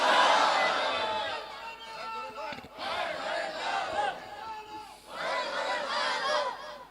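A large gathered crowd at an Islamic sermon roars the takbir, 'Allahu Akbar', in loud repeated waves of massed voices, with brief pauses between the surges.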